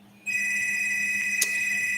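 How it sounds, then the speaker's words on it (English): A telephone rings with a steady electronic trill from an incoming telemarketer call, starting abruptly and sustained without pause, fairly loud and near, with no talk over it. "Ignore that because that is telemarketers phoning all the time"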